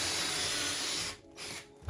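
A power drill drives screws into pocket holes while building a Shaker-style cabinet door, one sustained whirring run that stops abruptly and then gives a couple of shorter bursts close by.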